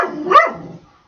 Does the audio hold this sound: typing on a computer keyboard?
no